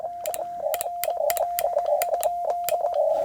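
A paddle keying Morse code CW at 20 words per minute, producing a clear single-pitched tone chopped into quick dits and dahs with crisp clicks at each keying, close and loud, alone without speech.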